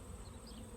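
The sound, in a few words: bees buzzing outdoors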